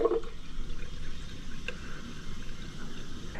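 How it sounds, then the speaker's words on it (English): Water streams steadily from a bottle filler at a trailside station, a soft continuous hiss and splash at moderate level with no talk over it. "They also have a bottle filler, which is just super nice."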